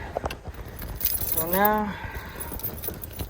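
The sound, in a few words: car keys jangling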